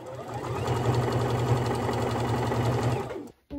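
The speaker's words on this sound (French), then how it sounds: "je vais pouvoir venir coudre toute mon encolure" Sewing machine running steadily while stitching around a garment neckline, a close, continuous whirring hum with rapid rhythmic needle clatter, stopping abruptly near the end.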